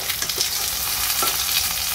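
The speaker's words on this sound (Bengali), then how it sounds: "3 থেকে 4 মিনিট এক সাইডে ভেজে নেব" Stuffed ash gourd (chal kumro) slices fry in a generous layer of oil over low flame, giving a steady, dense sizzle that stays even and close throughout.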